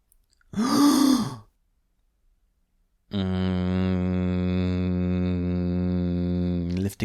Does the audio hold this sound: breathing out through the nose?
yes